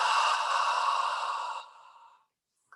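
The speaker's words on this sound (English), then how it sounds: "Inhale through the nose. Exhale out of the mouth." A long, forceful yoga exhale out of the mouth after an inhale through the nose, a steady breathy rush lasting over a second and then trailing off into silence.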